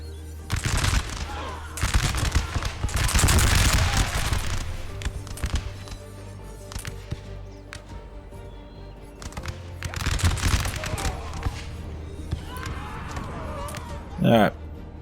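Musket volleys from units in a Napoleon: Total War battle, sharp crackling bursts of gunfire rising and fading in waves under a commentator's voice.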